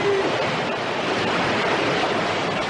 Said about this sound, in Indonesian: Ombak itu akan menggulung kalian.